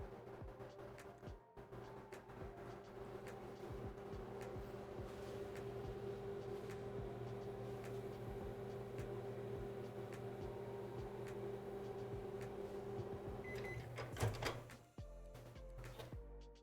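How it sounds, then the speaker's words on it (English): A microwave oven hums steadily for about fourteen seconds while softening butter, then stops with a clunk and a brief clatter as the door opens. "I usually do a 20-second microwave."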